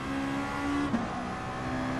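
A race car in Gran Turismo Sport pulls away from the pits after a refuel stop, its engine a steady harmonic drone with a brief bump in the middle, close and continuous.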